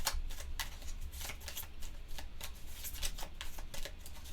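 A deck of game cards for the solo board game Set a Watch is shuffled with quick, rhythmic riffling clicks and soft flutters, close and fairly quiet, with no talking.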